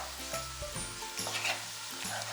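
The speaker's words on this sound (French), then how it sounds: "Donc ça, je vais les faire revenir 5 minutes sur un feu doux." Vegetables sautéing in a pan over low heat with ground coriander hiss and crackle steadily, with soft stirring scrapes and a faint low hum underneath, no voices.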